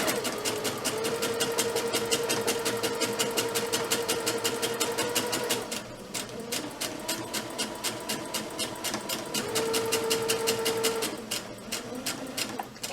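A sewing machine back stitching fabric for a homemade face mask, rapid rhythmic needle clatter running continuously near the mic, with a brief slowdown and pause midway before the stitching resumes at speed.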